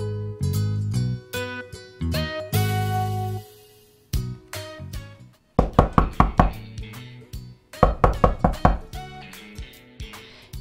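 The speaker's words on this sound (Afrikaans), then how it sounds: "Die raserige rus klop aan die rooi deur by die garage." Knocking on a red garage door, sharp repeated raps in quick clustered bursts with short pauses between them, close and fairly loud.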